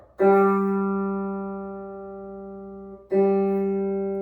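A single G note on guitar struck and left to ring steadily for about three seconds, then struck again, clean and close with a smooth decay and nothing else heard.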